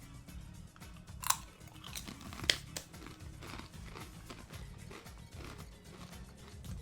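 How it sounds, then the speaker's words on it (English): A streamer chews something crunchy close to the microphone, giving sharp crisp crunches, two of them especially loud, over a quiet bed of game sounds. "Sorry about the crunching sounds."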